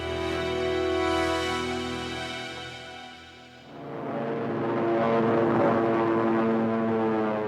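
A WWII torpedo bomber's propeller engine drones steadily in flight, a loud sustained tonal hum that dips briefly mid-way, then swells back with a rougher, broader roar.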